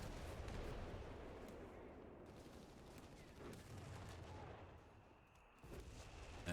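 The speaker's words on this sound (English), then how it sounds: "So I think the passive round from the howitzer has fired." Howitzer rounds firing in the strategy game Company of Heroes 3, a dense rumbling barrage of distant booms and blasts under layered battlefield noise, no voices.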